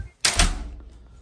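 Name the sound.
Otis elevator door closing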